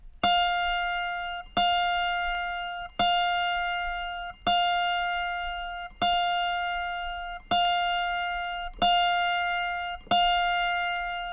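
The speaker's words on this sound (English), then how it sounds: "tune the other D sharp," An autoharp's 27th string, the higher-octave D sharp, plucked repeatedly during tuning: eight evenly spaced bright plucks, each ringing and decaying for over a second before the next, loud and close with no talk.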